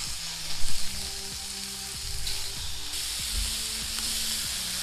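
Kebabs sizzle steadily on a slightly bent grill plate over a butane camp cooker, a continuous close frying hiss with a few soft clanks early on.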